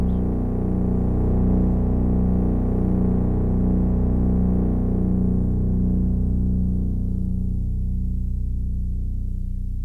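A Eurorack modular synthesizer sustains a high B note drenched in delay, a steady harmonic drone with rich overtones whose upper shimmer gradually fades while the low body holds, with no talking.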